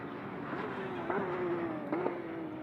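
GT race car lapping the Motorland Aragon circuit during an endurance race, a steady engine drone with rising and falling pitch and a couple of gear-shift blips, mid-distance and continuous.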